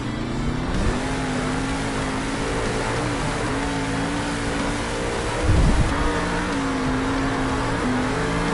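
Monster Mutt monster truck roaring away from the start line at a Monster Jam arena event in Salt Lake City, a steady loud engine drone with a brief heavier burst partway through.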